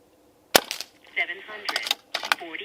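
A Barra 1100Z .22 PCP air rifle, tuned to be quiet, fires a single sharp, close crack, followed by people talking nearby.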